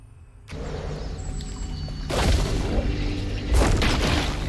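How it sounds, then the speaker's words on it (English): Mushrooms explode in the game South of Midnight, with deep booming blasts bursting out twice amid a busy rumbling mix of effects, loud and close, no speech over it. "Exploding mushrooms?"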